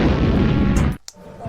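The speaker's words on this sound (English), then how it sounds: "What comes after X? explosion." A loud, dense explosion sound effect roars and then cuts off sharply, leaving a short pop and a quiet tail.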